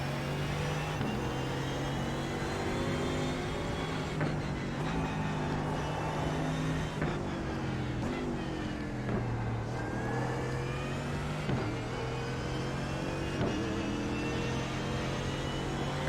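A McLaren racing car's engine revs and accelerates through gear changes as it takes a track chicane, a steady whining drone that rises and drops in pitch, heard alone without talk.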